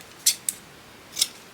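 Scissors snip thin craft material up close, two quick cuts followed after a pause by a third, crisp and quiet in an otherwise still room.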